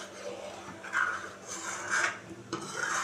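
Dishes and utensils being washed by hand at home, with soft scraping, rubbing and light clinks of pots and cutlery in a few bursts, close and moderately loud, with no talking.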